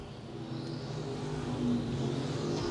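Pure stock race cars roar around a speedway oval in a steady, continuous engine drone, several cars running side by side lap after lap with no gaps in the noise.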